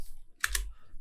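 Computer mouse right-click and a key press: two quick, close clicks in succession, soft and near against a quiet background.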